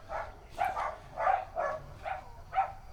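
Dogs bark at a passerby, six evenly spaced, muffled woofs at a moderate distance, steady and rhythmic, with no talk over them.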